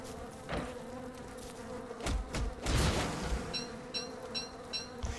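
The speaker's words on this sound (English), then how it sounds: "Ooh, and we have the queen bee." Bees in the video game Don't Starve Together, buzzing around the queen bee; a close, wavering insect drone with several louder swells and a few short chirping game tones near the end, no voices.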